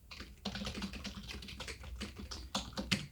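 Rapid typing on a computer keyboard, close and fairly quiet, with uneven bursts of key taps and short pauses as a script is written; no speech.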